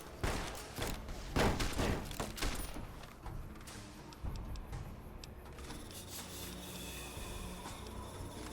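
Several sharp varmint rifle shots from the game Fallout New Vegas crack in quick succession near the start. They fade into a quieter rustling, scraping background with faint tonal game ambience.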